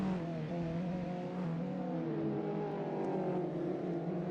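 Touring race cars at Sonoma Raceway rounding the final corner, engines droning and shifting pitch as they pass, steady and fairly loud with no talk.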